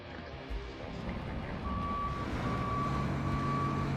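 Truck reversing beeps in the video game RoadCraft: a steady, evenly timed electronic beep over a rumbling truck engine, with no talk.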